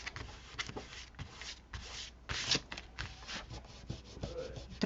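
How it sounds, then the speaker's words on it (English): Fingers rubbing excess Fabri-Tac glue off a paper craft piece, a dry, scratchy scuffing in repeated short strokes, close and fairly quiet. "And if the glue shows through, you can just rub it off."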